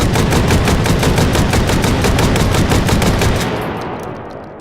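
An AA-12 automatic shotgun fired in the video game Hot Dogs, Horseshoes and Hand Grenades, one loud, continuous rapid burst of booming shots lasting several seconds before trailing off into a fading echo.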